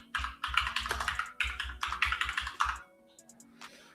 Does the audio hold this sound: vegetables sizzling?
no